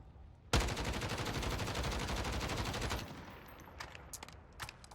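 Grau assault rifle on full auto in Warzone: a loud, tight burst of rapid shots lasting about two and a half seconds, then a few scattered clicks and clatters as the firing stops.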